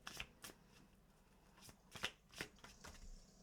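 Tarot cards being shuffled in a quiet room, with soft riffling bursts and slaps coming in irregular clusters, close and fairly quiet, and no talking.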